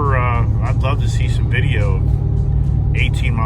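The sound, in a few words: Ford Tremor truck driving on the highway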